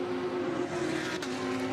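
A GT race car at Monza qualifying in the 2021 Fanatec GT World Challenge, likely a Porsche, crossing the line with a steady, loud engine drone that holds throughout, without a distinct pass-by swell.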